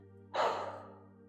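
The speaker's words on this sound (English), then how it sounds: "a deep, intentional inhale through your nose, filling your belly, and an exhale through your mouth" A deep, deliberate breath drawn in through the nose and released through the mouth during a calm guided exercise, one soft rushing breath that swells quickly and then fades slowly, close and alone over a low steady hum.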